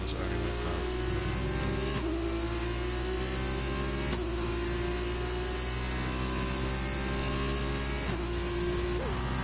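Race cars in an F1 league video game at Interlagos, an F2-class field, roaring past continuously with high revving engines that rise and drop through gear changes, loud and close with no talking.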